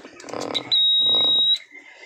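Continuous high-pitched electronic beep from a test pen voltage tester held against a rock sample, one steady tone lasting under a second, loud and clear between brief stretches of speech.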